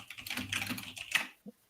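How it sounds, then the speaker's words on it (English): Rapid computer keyboard typing, a quick run of clicks and taps close by, ending with a single key tap after a brief pause. "Excuse the typing."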